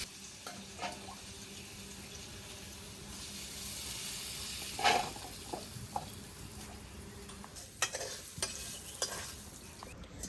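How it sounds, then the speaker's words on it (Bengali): Vegetables lightly frying in a pan for khichuri, a low steady sizzle with occasional scraping stirs and a few clinks, fairly quiet and close, no talking. "সবজিগুলো অল্প পরিমাণে ভাজতে হবে, যেহেতু খিচুড়িতে দেবো"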